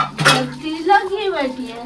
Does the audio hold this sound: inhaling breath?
no